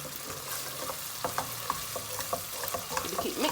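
A jollof rice base sizzles steadily in a frying pot while a utensil stirs it, giving a constant hiss broken by irregular scraping clicks and light wet splatters.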